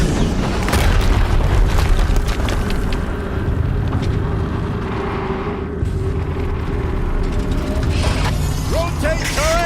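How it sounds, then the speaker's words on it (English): An explosion in Horizon Zero Dawn's Maker's End quest rolls out as a heavy, sustained rumbling boom mixed with mechanical clanks and rattles, loud and close, with voices speaking over it. "Another explosion."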